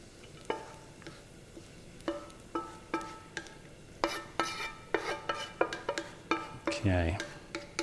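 Fried cashews scraped and tipped from a frying pan onto a plate, a string of close metallic scrapes and clinks with a faint sizzle beneath, ending in a brief rattling slide.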